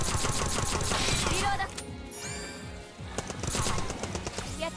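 Pistol fire in the video game SAO Fractured Daydream, a quick run of sharp clicking shots, then a short lull with a rising effect, then another burst of shots.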